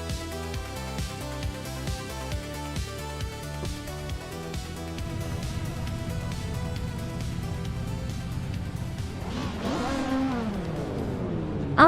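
Race cars in a racing video game roar and accelerate at the Autodromo Riccardo Paletti, loud layered engine whine with rhythmic gear-shift pulses, then a rising rev sweep near the end.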